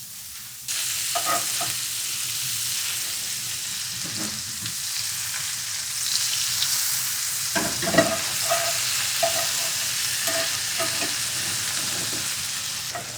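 King oyster mushrooms sizzle steadily in plant-based butter in a pan, with a continuous frying hiss, occasional sharp pops and a few scraping stirs, close and fairly loud, with no talking.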